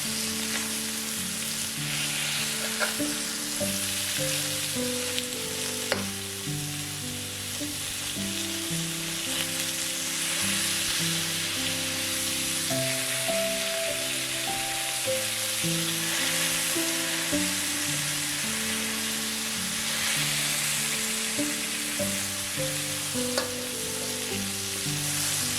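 Halibut searing in a hot pan, a continuous bright sizzle running steadily throughout, with gentle background music underneath.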